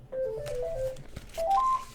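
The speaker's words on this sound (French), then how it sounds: "Ah, téléphone, mais c'est pas grave." A telephone sounds with a series of short electronic tones rising in pitch, like dialing beeps, fairly faint over a quiet room with no speech.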